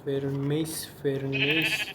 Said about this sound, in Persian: صدا گاو گوسفند میاد